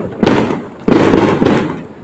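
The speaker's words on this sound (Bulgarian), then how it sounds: "И мисля, че много силно има заря." New Year fireworks boom nearby: two loud, rumbling bursts, the second following about half a second after the first fades, each trailing into crackling noise.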